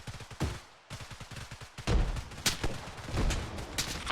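Sustained gunfire rattles through a platoon live-fire exercise on a training range with buildings, bursts of loud close shots with sharp cracks repeating irregularly and overlapping, with no voices heard.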